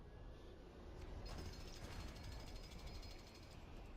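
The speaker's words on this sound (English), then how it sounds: "now we can use Scarlet Witch to command the jackhammer to do what jackhammers do" A jackhammer in LEGO Marvel's Avengers hammers away, a fast rattling mechanical clatter that starts after a second and keeps going steadily at moderate level, with no talk over it.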